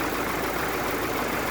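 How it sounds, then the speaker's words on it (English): A 1946 Willys CJ2A with its original Go Devil flathead four-cylinder engine and Carter WO carburetor runs at a steady idle, a loud, even, close-up mechanical drone with no talking. "It's a flathead 4-cylinder."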